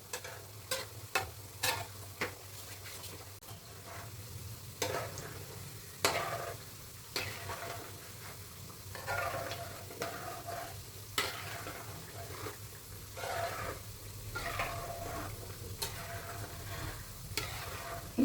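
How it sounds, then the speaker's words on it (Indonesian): Karaage chicken frying in hot oil as the pieces are pushed around, a quiet steady sizzle punctuated by sharp clicks and taps of the utensil, irregular at first and then settling, with no voices. "Ada yang tidak kena minyak, maka kita harus geser-geser supaya tepungnya semua harus terkena minyak."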